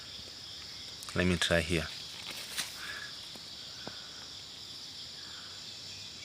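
Crickets chirp outdoors near a plant-covered work site, a dense high-pitched shrill that runs steadily throughout, with someone speaking briefly over it near the start.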